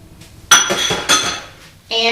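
Two eggs cracked and dropped into a mixing bowl of sweet potato pie filling, with sharp clinks of shell and utensil against the bowl in a few separate bursts, close and fairly loud.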